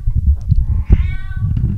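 Domestic cat meows once, a clear drawn-out cry rising over a low background rumble and scuffling, close to the microphone, during a live stream.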